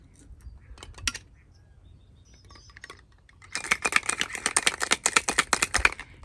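A cocktail shaker holding ice, Italian vermouth and other spirits is shaken at a Jamaican restaurant, starting after a quiet pause as a dense burst of rapid rattling clatter that runs steadily for the last few seconds.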